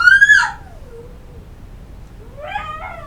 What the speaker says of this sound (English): you'll now hear my daughter screaming in the background